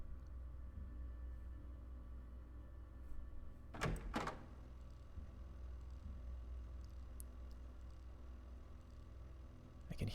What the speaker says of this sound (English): Hear doors opening and shutting